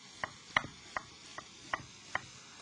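A knife chops through a vegetable on a board, six crisp evenly spaced taps, close and quiet.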